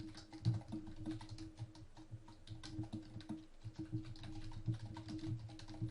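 Rapid, irregular typing on a computer keyboard while entering search terms, close and clear with steady clicking keystrokes and no talk.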